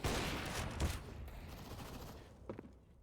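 Desert Eagle pistol fire in a competitive Counter-Strike match: a rapid cluster of sharp gunshots up front, then a couple of isolated cracks near the end, loud and close.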